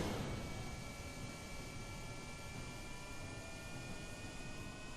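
An aircraft in Kerbal Space Program taking off, a loud, steady roaring engine wash with a faint high whine, continuous for the whole stretch.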